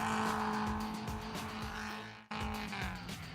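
Car engine revving hard with tires squealing, a loud continuous roaring whine with a brief cut midway, then the engine and skid noise resume.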